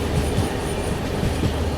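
A nonstop Jaipur–Mumbai express train runs along the track with a loud, continuous rumble and faint rhythmic clatter of wheels, heard from on board.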